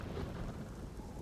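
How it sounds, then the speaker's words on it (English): Deep thunder rolls continuously under steady rain in a stormy scene from the video game Ghost of Tsushima, a dense low rumble with no voices. "Ooh, ominous thunder and lightning."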